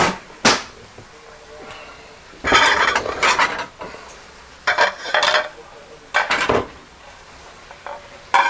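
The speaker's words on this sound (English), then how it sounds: "I'm gonna grab a plate or 2, or 3" Plates and dishes clatter as they are taken out and handled in a home kitchen while keto French dip cooks, with several short bursts of clinking separated by quieter pauses, close and fairly loud, with no voices.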